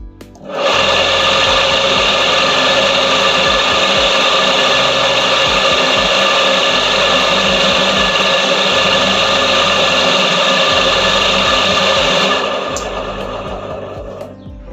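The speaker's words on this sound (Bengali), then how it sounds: "এবার পাওয়ার সুইচ অন করে দেখি মোটর চলে কিনা।" A three-phase electric motor running on a single-phase supply starts with a click and holds a loud, steady whine and hum for about twelve seconds, then winds down as power drops.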